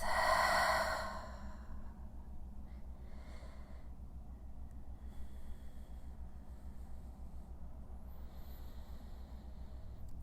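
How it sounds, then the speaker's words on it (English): One long exhale through the mouth in a yoga class, a soft, airy whoosh near the mic that fades into a quiet room with faint background hiss and no talking. "Exhale through the mouth."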